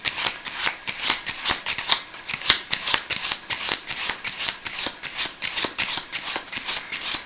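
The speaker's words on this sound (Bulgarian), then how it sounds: "вземаме това тесте и нека да отброим, да речем, няма значение, но 26 карти" Playing cards are dealt off a deck one at a time, a steady run of crisp snaps and flicks, close and fairly loud, with no voice over them.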